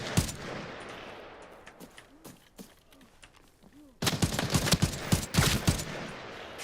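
Bursts of gunfire ring out in a shooter video game, scattered sharp shots early on, then a dense, louder volley of rapid cracks in the last few seconds.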